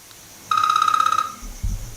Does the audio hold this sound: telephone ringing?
yes